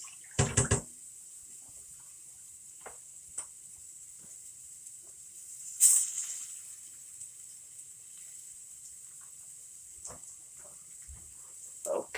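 A cup is rinsed under a running kitchen tap: a steady, faint hiss of water with a few scattered knocks and clinks, and a louder splash midway.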